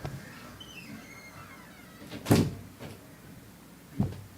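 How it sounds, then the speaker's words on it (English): A door is shut indoors with a thump, followed a moment later by a second softer knock, over a faint room hum with no voices. "So I'll have to close the door."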